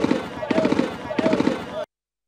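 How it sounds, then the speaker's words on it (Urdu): Bursts of machine gun fire play back from a video, rapid repeated shots in two or three dense volleys under a busy, compressed soundtrack, then cut off abruptly. "machine gun fire, machine gun,"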